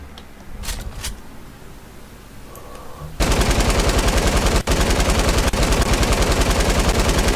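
Rapid automatic gunfire from a weapon in the Fortnite battle royale game, a dense, loud, continuous burst of shots that starts abruptly after a few seconds of quieter game ambience with faint clicks.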